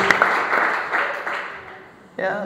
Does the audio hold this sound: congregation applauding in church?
yes